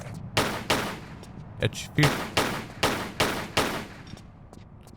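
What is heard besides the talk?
gunshots in Tomb Raider III video game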